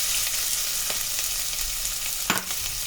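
Two onions fry in hot oil for an egg curry, giving a steady close sizzle with occasional stirring scrapes and one sharp clink of a utensil against the pan near the end.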